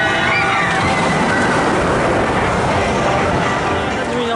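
Constant loud rushing, sloshing water from the Tidal Wave ride at Thorpe Park, a dense wash of spray and splash filling the whole stretch without a break.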